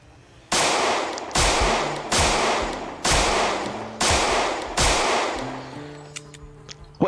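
Six bursts of automatic gunfire in the Project Zomboid video game, each a loud sharp volley that decays over about a second, spaced at an even rhythm, followed by faint clicks and tones.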